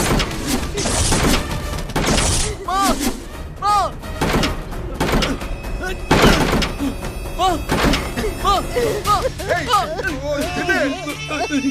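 Repeated heavy thuds of someone pounding on a closed door, loud and close, in bursts among shouting voices calling out in Tamil.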